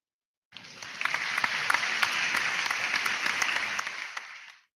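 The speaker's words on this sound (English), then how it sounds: "I had lost my applause button and I just found an applause button" A sound-effect button plays a slow clap: steady applause with distinct, evenly spaced claps over a dense crowd-like bed, starting abruptly and fading out after a few seconds.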